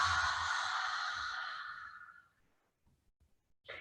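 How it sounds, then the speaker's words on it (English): A long, breathy open-mouthed exhale, lion's breath in a yoga core flow, loud at first and fading out over about two seconds, followed by quiet and the start of another breath. "open your mouth and really breathe like a lion's roar"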